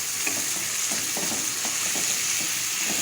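Tomatoes dropped into a hot frying pan over a medium-low flame while cooking spicy aloo bharta, giving a steady close sizzle and frying crackle with faint stirring scrapes throughout.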